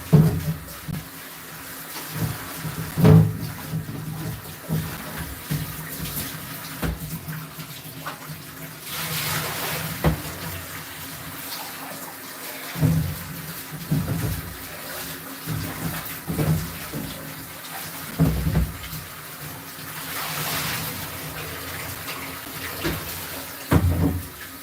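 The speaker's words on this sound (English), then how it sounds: "And we'll rinse." Water runs from a tap while a coffee pot is rinsed out, a steady hiss broken by sloshing, swirling and splashing bursts as the pot fills and empties, heard close in a kitchen.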